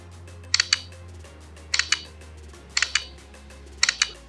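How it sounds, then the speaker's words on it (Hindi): The OnePlus Hasselblad camera app's leaf shutter sound fires four times at steady intervals, each a crisp close double click, mechanical and bright, with quiet pauses between. "जो इसकी शटर साउंड है वो एकदम लीफ वाली"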